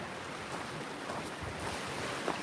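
Gale-force storm wind sweeping over Cameron Lake and driving waves, a steady broadband roar of gusting air and churning water, loud and continuous.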